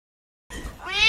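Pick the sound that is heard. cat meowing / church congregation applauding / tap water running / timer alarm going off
cat meowing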